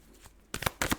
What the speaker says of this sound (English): Dropped some cards.